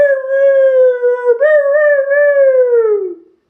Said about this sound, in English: Rabbit tried to lure the Heffalump with his Heffalump call